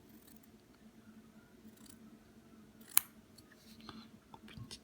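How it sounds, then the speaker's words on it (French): A single crisp snip of scissors cutting a small strip, brief and close against a quiet background with faint handling noises. "Coupe une petite bande, tranquillou."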